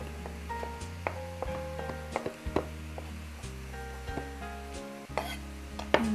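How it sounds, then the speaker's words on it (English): Chopped mixed mushrooms cook in a pot with a soft sizzle while a utensil scrapes and clinks against the metal in irregular strokes. The sound is close and moderately loud, with no voices. "We'll cook the mushrooms for about 6 to 7 minutes until all the liquid is"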